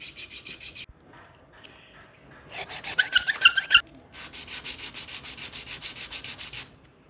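Sanding a surface smooth by hand before bonding it with Fevikwik instant glue: bursts of rasping abrasive strokes, a quick rhythmic run, a short harsher scrub, then a steady train of even strokes, close and alone.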